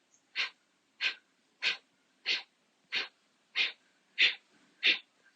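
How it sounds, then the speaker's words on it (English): Eight short, sharp breaths forced out through the nose or mouth in a breathing exercise, evenly spaced about two-thirds of a second apart, close and breathy against a quiet background. "is short and sharp exhalation"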